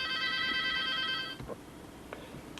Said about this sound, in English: We get a phone call from George